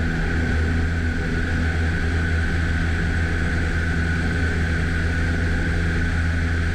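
A light propeller airplane's engine roars steadily at full takeoff power during touch-and-go practice, a loud continuous drone with strong low harmonics throughout, with no voices over it.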